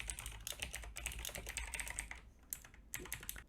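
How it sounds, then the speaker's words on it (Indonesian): Fingers type rapidly on a computer keyboard, a close, quiet run of dense clicking keystrokes with a few brief pauses and no talking. "Kita ketikkan H2 tambah P, lalu kita tekan Ctrl E."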